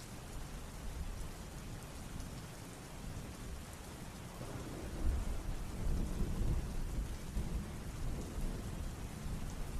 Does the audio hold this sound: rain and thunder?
yes